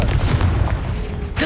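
Confringo fire-blast spells from Hogwarts Legacy burst in a dense, booming barrage, loud and continuous for over a second, ending with a brief sharp crack.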